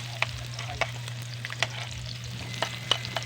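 Onion and garlic frying in a pan for Filipino pork adobo, with occasional spoon stirs and scrapes clicking over a steady hum and low sizzle, close and moderately quiet.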